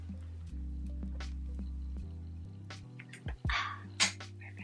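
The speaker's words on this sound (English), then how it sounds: "if you have your water, take a sip, because I am too" Close, quiet slurping and squishing sounds of someone sipping water, with a few wet clicks and swallows in short bursts over a steady low background hum.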